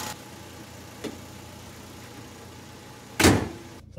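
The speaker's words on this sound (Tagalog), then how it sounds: "So 1 click lang ang start ng ating sasakyan ngayon." A Chery Tiggo 2 SUV left parked in Saudi Arabia, started with one push-button press: faint cabin hum and a small tick, then a sharp burst as the engine catches, briefly loud before cutting off.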